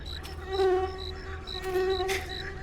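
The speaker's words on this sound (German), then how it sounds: "Sorry, da ist eine Schnake." Mosquito buzzing in the video game The Cursed Forest, a close, whining insect drone with pulsing pitch that rises and falls in two swells, alone without speech.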